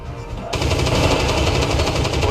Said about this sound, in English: Agora eu posso começar a atirar.